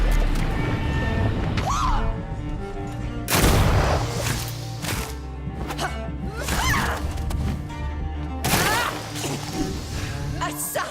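Gunfire in the video game Vampyr, several loud, close sharp blasts with booming tails spaced a few seconds apart, over game music and ambience.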